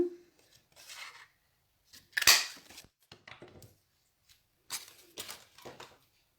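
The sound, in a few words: scissors cutting paper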